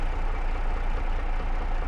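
A steady, close tractor engine idles, an IH 66 Series in Farming Simulator 22, with a continuous low rumble and even drone throughout and no talking.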